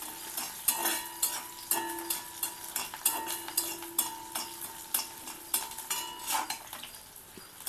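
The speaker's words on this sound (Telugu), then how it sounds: "ఆనియన్స్ కొద్దిగా వేగాయి." Onions fry in a pan while a spatula scrapes and clinks against the metal in a regular stirring rhythm, with a soft sizzle underneath each stroke.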